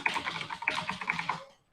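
A quick, close burst of keystrokes on a computer keyboard while typing in the Vivaldi browser, steady clatter of keys that stops abruptly and falls silent.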